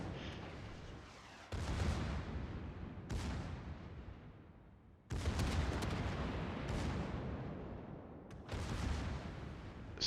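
Ship guns firing armor-piercing rounds in World of Warships: four heavy booming salvos about every two to three seconds, each with a sharp onset and a long rumbling decay, with no talk.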